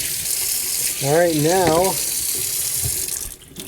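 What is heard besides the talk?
water rinsing vinegar off a motorcycle part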